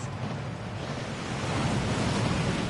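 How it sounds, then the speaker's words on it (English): Heavy rushing water of the Thief's Downfall waterfall inside Gringotts in Hogwarts Legacy, a steady broadband roar that swells slightly louder partway through, with no voices. "That waterfall washes away all enchantments."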